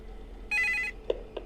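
A single short telephone ring sounds in the office of the video game Five Nights at Dolma's 3, a bright buzzing trill that stops abruptly, followed by two faint soft clicks against a low ambient hum.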